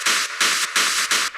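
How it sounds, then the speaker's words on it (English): Rhythmic bursts of bright white noise come from the Serum synthesizer, chopped into four loud, evenly spaced pulses with short gaps between them. There is no speech. "I've then got Serum with white noise on it"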